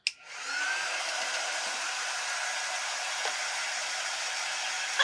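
A hair dryer drying paint clicks on and then blows steadily, a loud continuous close whoosh that holds at an even level throughout.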